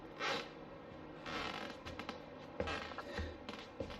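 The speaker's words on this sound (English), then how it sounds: "right in this corner there's a little kind of a squeak when you walk by" Wooden floorboards in a dining room under remodel creak and squeak as someone steps across a corner, a few close, irregular creaks over a faint house background.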